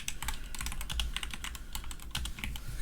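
Rapid clicking of keys on a computer keyboard, steady bursts of typing at close range with no talking.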